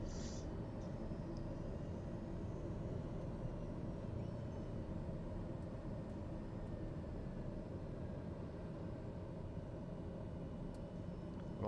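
Steady broadband drone of a TBM 850 turboprop engine in Microsoft Flight Simulator, a constant low rumbling hum that stays even and unbroken, fairly quiet with no voices over it.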